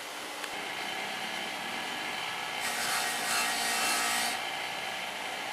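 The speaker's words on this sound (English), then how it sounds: "I'm going to have to come in here and sand this with a grinder and a wheel, grit wheel" A grinder fitted with a grit wheel sands aluminum, giving a steady, fairly faint abrasive hiss that swells for a stretch midway and then settles back.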